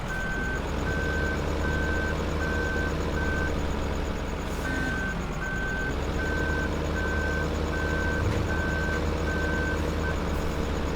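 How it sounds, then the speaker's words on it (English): New Holland loader in Farming Simulator 15 runs with a steady engine drone while a reversing beeper repeats in regular pulses, loud and continuous, with no talking. "here is the new Holland Loader from the pack that we've got running"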